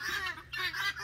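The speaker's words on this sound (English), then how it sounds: "The guineas are being really loud" Guinea fowl in a chicken pen call loudly in rapid, harsh, rhythmic squawks, several overlapping cries in quick succession, close and unbroken.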